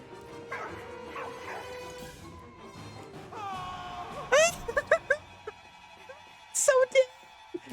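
A dog barks, yips and whimpers in the World War I game Valiant Hearts: The Great War. The sharp yelps come in quick bursts, and a player talks quietly underneath.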